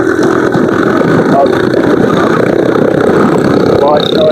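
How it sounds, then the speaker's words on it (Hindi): Steady, loud wind roar and engine drone from riding a motorbike along a main road, continuous rushing noise with a voice briefly speaking over it. "बहुत शोर आ रहा है हवा का बाइकों का"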